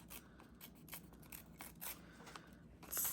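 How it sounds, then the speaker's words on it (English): Paper torn by hand while making decorative junk journal tags, a run of close, dry ripping and crinkling bursts spread across the moment with no talking. "I'm going to just kind of rip this part a little"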